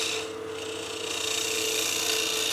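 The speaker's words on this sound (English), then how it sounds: "we'll negative rake scrape the surface just to clean it up" An aluminum pocket case spinning on a lathe is negative rake scraped, giving a continuous rasping, grinding scrape over a steady machine hum, fairly loud and unbroken.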